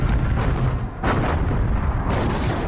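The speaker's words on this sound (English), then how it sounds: "At 3:51 a.m., radar-controlled guns on the American battleships open fire." Battleship guns firing, heavy deep booms in quick succession, loud and rumbling, with three blasts rolling into one another across a few seconds.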